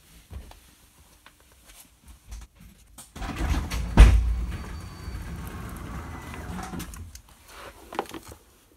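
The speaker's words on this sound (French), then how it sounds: "Ici, je vais ouvrir la porte de garage pour un peu le presser." A connected garage door rolls open with a heavy rumbling mechanical drone and a sharp clunk near the start, running steadily for several seconds before tapering off, close and fairly loud.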